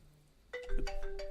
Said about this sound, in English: Sorry, my phone was not on silent.